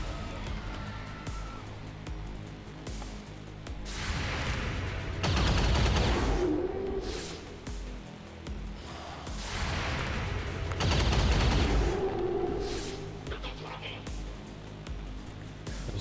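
Rapid enemy gunfire in XCOM 2, loud bursts of shots swelling around six and twelve seconds over game ambience and background noise, with quieter firing between.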